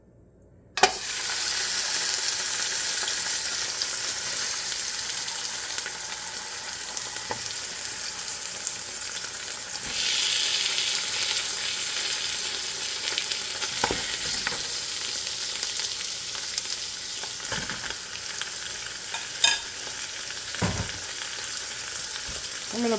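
Beef pieces browning in about two tablespoons of hot avocado oil in a pot, giving a steady close sizzle and frying hiss with occasional stirring clinks and scrapes throughout, no voices.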